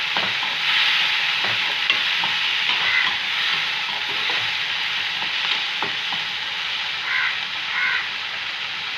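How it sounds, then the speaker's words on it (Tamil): Onions sauté in oil with turmeric, giving a steady, close sizzle throughout with occasional faint stirring scrapes and no talking. "இது நல்லா இப்போ எண்ணெய் பிரிஞ்சு வர அளவுக்கு வதங்கட்டும்."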